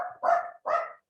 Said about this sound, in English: I don't think that they will stop barking.